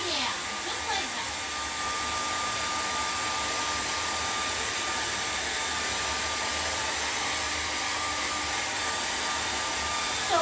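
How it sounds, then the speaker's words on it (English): A hair dryer blows steadily and loudly to dry the lower half of a fresh acrylic painting, a continuous whooshing roar that holds unchanged from start to finish. "You guys are going to take your hair dryer real quickly, and what we're going to do is we're going to dry off the bottom of this painting"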